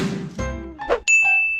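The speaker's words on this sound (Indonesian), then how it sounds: "SMS sudah masuk nih, tinggal klik linknya." A bright electronic chime of an SMS notification tone on a phone rings out clearly and sustains after a short burst of softer clinking sounds.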